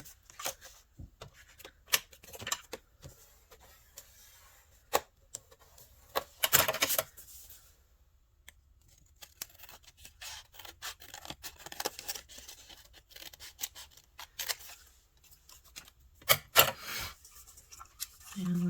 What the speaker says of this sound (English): I'm just going to fold this.